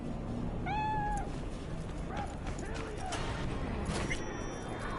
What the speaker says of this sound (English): That's a Siamese cat.